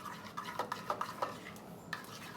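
Potato purée being stirred in a warm pan with two spoonfuls of cream added, giving soft scraping and clinking strokes at an uneven pace, close by and moderately quiet with no talking.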